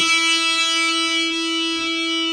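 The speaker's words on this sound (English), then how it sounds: "I'm starting the string ringing by plucking it with my index finger" A single sustained electric guitar note, the fifth fret of the B string plucked with the index finger, ringing steadily and bright with a heavy metal tone, close and alone.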